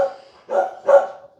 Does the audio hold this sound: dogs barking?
yes